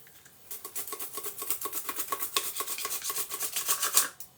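A steady run of short, rhythmic rasping cuts as cucumber is sliced on a Tupperware SuperSonic Chopper's first slicing level, close and fairly quiet, with no talking.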